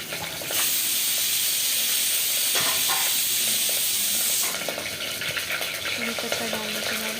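Curry leaves crackle and sizzle in hot oil in a home kitchen pan, a loud, steady frying hiss that runs throughout with occasional stirring scrapes.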